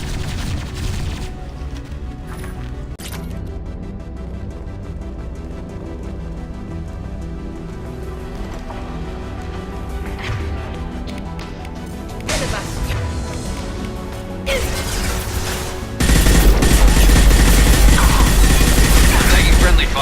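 Gunfire and combat noise from the video game Mass Effect 2, with dense mechanical shooting layered over a steady game soundscape, building into a loud, harsh burst of blasts near the end.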